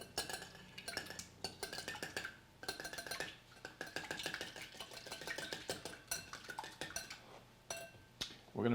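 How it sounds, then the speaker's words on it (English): Egg and mustard whisked together in a bowl with a fork or whisk, giving a steady run of close, quick metal clinks and scrapes against the dish, no voices. "We're going to mix in our mustard."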